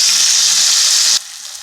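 Cumin and garlic toast in olive oil in a cast iron pan, giving off a loud, steady, bright sizzle that drops sharply to a faint hiss near the end.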